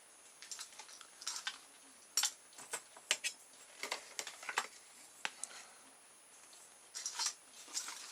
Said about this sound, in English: So now I'll cut a tail and I'll make it a V shape